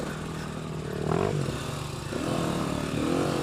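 A motorcycle engine hums steadily on a group ride, its pitch rising and falling as the throttle shifts, loud and continuous without any talking.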